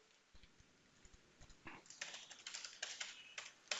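Close computer keyboard typing, a few scattered keystrokes at first, then a denser, louder run of rapid taps as a worksheet name is entered, no voices.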